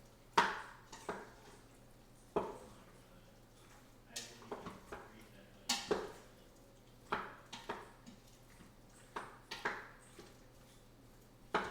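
Utensil scraping and clacking against a pan as seasoned food, salted with Himalayan salt, is stirred for chili verde, in short irregular strokes, close and moderately loud, with a low steady hum underneath.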